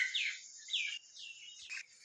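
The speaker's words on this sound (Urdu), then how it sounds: "صبح صبح دا وقت ہے تو پرندے جڑے وہ پہنچ آئے، آوازاں تھانوں آ رہی ہوں گی" Small birds chirp in the morning, a few sharp descending tweets repeating close by against a quiet background, with no voices.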